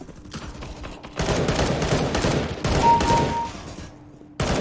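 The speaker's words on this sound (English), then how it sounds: "So it seems like I can still put some decent shots downrange." Rapid gunfire in Counter Strike, loud sustained bursts of automatic shots with brief gaps between volleys, close and dominant with no talking over them.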